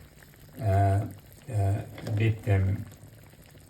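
Crab curry gravy bubbles in a pot over heat, a soft continuous simmer running beneath a person speaking close by.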